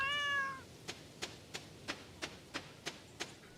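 A cartoonish cat in Stardew Valley gives a single short meow, followed by a steady series of light, crisp game ticks at even intervals. The whole scene is quiet, with no voices.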